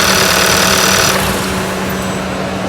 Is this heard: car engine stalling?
yes